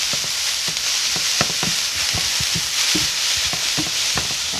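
Vegetable noodles fry in a pan with a loud, steady hiss, broken by scattered pops and the scrape of tossing and stirring, close up with no talking.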